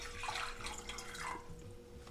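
Water poured into a cooking pot, a continuous soft splashing stream that stays steady and fairly faint throughout.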